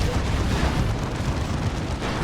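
Manticore rocket artillery firing in the video game Dawn of War 2, a dense continuous rumble of launches and blasts with heavy low-end boom, loud and unbroken for a couple of seconds.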